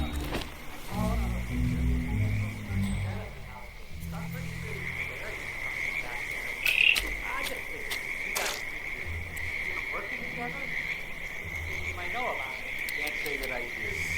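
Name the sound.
frogs croaking in the video game Hitman 2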